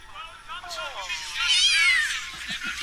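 A kitten meows in high, rising and falling cries during a film scene, set amid excited chatter from people watching, with the mewing clearest and strongest in the middle of the stretch.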